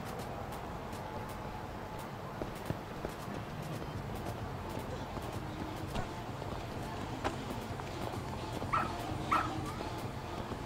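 Dog barks and whimpers from Lost Judgment, a few faint short yips near the end over a steady background game ambience, with some scattered clip-clop-like taps throughout.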